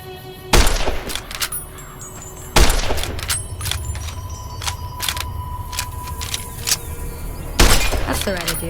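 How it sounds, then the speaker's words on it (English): Sharp gunshots ring out from a pistol in Fallout New Vegas, aimed at sarsaparilla bottles on a fence, three loud reports spaced seconds apart with ringing tails over steady ambient game sound and music. "Now, see the sarsaparilla bottles on the fence there? Take this and try to hit a couple of them."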